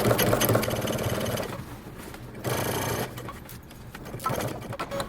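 A sewing machine stitches through heavy denim jeans fabric in steady, loud mechanical runs, pausing briefly midway before stitching again, with no talking.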